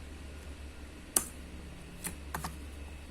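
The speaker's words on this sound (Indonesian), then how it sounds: "Kita tekan enter lagi." Keys on a computer keyboard click in a quiet room. One sharp, crisp press is followed by two softer taps over a faint steady hum.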